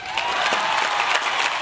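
Celebratory crowd of thousands welcoming a hero home, producing dense, steady clapping mixed with scattered cheers, loud and continuous across the short stretch.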